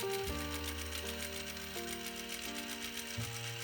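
A sewing machine edge-stitches a trouser pant flap, running in steady humming bursts with brief pauses and pitch shifts between stretches of stitching.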